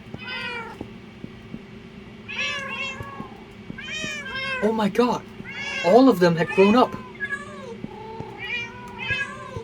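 Tamed cats meowing in the Minecraft video game, a run of repeated high mews rising and overlapping, loudest in the middle, heard under a person's excited talk.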